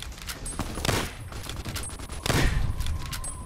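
Rapid gunfire bursts in Fallout New Vegas, with dense volleys of shots crackling in quick succession and two louder clusters standing out over a continuous battle din.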